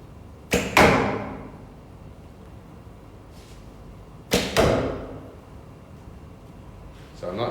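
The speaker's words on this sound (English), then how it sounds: "So let's knock the arrow at the 90-degree mark, like that, and we're gonna be shooting it right there." An arrow leaves a 45 lb Yuen Bow by Taurus twice, each shot a sharp string snap and whoosh followed by a dull thud of impact, close and clear, with quiet pauses between and faint background noise.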